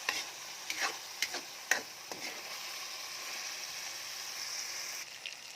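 Chicken with tomato sizzles and fries in a pan while being pressed and stirred, a soft steady crackle punctuated by several sharp scraping clicks from the utensil, close and fairly quiet, without talk.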